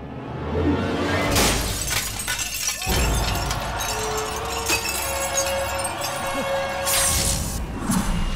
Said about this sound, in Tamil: கண்ணாடி ஏண்டா உடைச்ச?